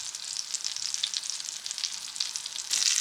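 A quesadilla frying in melted plant-based butter in a pan gives a steady, close, bright sizzle with a louder crackling burst near the end, and no voices.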